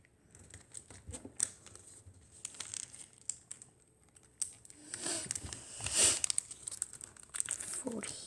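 Paper being folded and creased by hand while making an origami bowl: close, irregular crinkles, rustles and sharp crisp creasing bursts, some louder swipes near the end, with a faint voice at moments.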